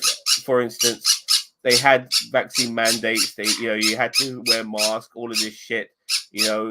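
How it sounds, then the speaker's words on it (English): Pet birds squawk sharply in the background of a home setting, bursting out between and over a man's continuous speech. "sorry about my birds"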